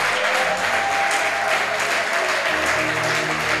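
A church congregation applauding, steady dense clapping from a crowd throughout, loud and sustained, with some faint voices mixed in.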